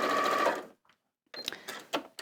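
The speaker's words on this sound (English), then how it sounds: "I'm sewing quite close to the edge" A domestic sewing machine stitches close to the edge of fabric, a fast buzzing run that stops, followed after a short silence by a few shorter bursts of stitching.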